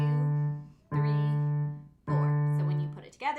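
Piano tones from a beginner arrangement of Moonlight Sonata: the left hand plays repeated low D notes, three sustained strikes each ringing and decaying before the next, close and clear with no talk over them.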